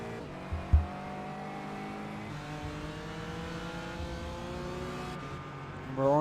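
Onboard a BMW race car chasing a Porsche, the engine holds a steady, loud drone with rising harmonic tones through the gears, a brief thump near the start and a surge of revs at the end.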